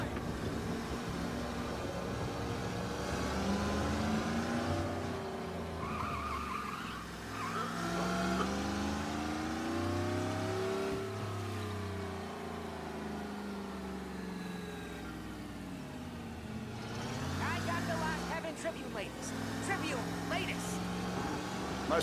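A car engine revs and drones while driving in Mafia: Definitive Edition, the pitch rising and falling with gear changes under steady talk from several voices.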